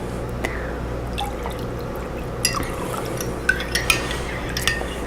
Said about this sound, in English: Then we're going to add the lemonade and we're going to mix it up.